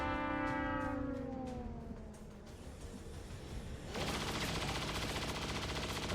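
A burst of micro missiles fired in the video game XCOM 2, a rising launch whoosh followed by a dense rattling volley of explosions that keeps roaring steadily to the end.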